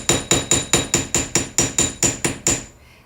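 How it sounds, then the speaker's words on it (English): A hammer strikes a wire jewelry piece about ten times to flatten it, in a steady, evenly spaced series of sharp metallic taps that are close and loud, then it stops. "I forgot to hammer the other side of this one."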